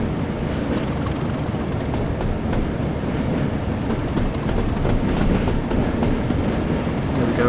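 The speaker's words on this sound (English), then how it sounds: "we're just going to thrash the locomotive" Class 37 diesel locomotive in Train Simulator 2016 on the Norwich to Great Yarmouth line, giving a steady heavy engine roar with rail rumble at around 60 mph, constant and loud throughout.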